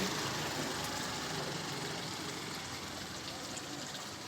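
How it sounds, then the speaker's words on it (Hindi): Clean water pours steadily into an open street drain in Shankar Nagar, Durg, a continuous loud rushing wash that fills the space at close range, with a faint engine rumble underneath. "नाली में बह रहा है पूरा पानी।"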